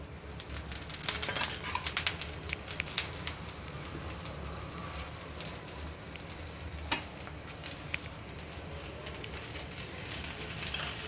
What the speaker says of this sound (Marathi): आता आपण परोठा टाकूया, शेकून घेऊया।